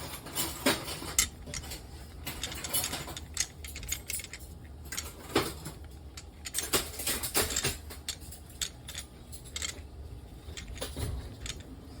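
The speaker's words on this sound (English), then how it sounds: "so now I'm gonna roll out my biscuits here" Chive biscuit dough being rolled out on a counter, heard as scattered light taps, clicks and soft knocks in an uneven rhythm, close and moderately loud, with no talking.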